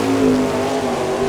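Sprint car on a J&J chassis with a Dowker racing engine at an All Star Circuit of Champions race in Chillicothe, Ohio, its engine droning loud and steady at high revs.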